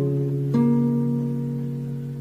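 A single guitar note picked on the second fret of the third string, struck once with a clear attack over a sustained chord and ringing out as it slowly fades, close and alone.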